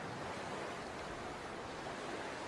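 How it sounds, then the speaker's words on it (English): Waves wash steadily against a shore, a soft, even, continuous hiss of surf heard at a distance with no voices. "Water."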